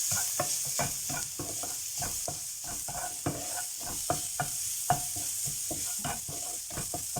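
Chopped garlic sautéing in hot oil in a pan, a continuous close sizzle broken by repeated scraping stirs at a quick, uneven rhythm, with no talking.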